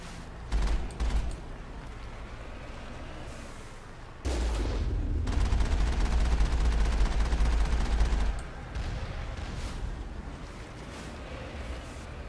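Gunfire in the video game Mass Effect, bursts of shots and sustained rapid fire with heavy low-end booms, loud and dense, a brief burst early then a long continuous barrage that eases near the end.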